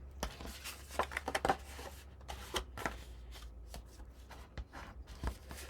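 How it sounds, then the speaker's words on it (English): A My Craft number 2 bone folder folds and burnishes card stock along score lines, giving close, dry scraping and rustling strokes in irregular bursts, with no talking. "I'm going to fold and burnish on all these score lines"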